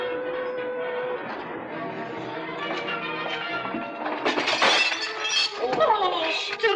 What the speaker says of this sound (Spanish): Se rompió el espejo.